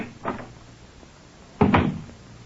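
A door in an old-time radio drama swings open: a soft creak and thump, then a louder, fuller knock-like thud about a second later, close and alone.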